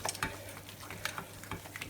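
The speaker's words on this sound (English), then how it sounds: "You just want to keep mixing, just keep on mixing, otherwise if you let it go at this point it is going to burn at the bottom" Choux pastry roux is stirred continuously in a hot pan, a rhythmic scraping and slapping of the thick dough with light sizzling underneath, close and steady.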